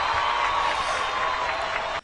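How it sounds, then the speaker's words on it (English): A burst of crowd applause and cheering plays steadily for about two seconds, then cuts off abruptly. "I actually had the applause button"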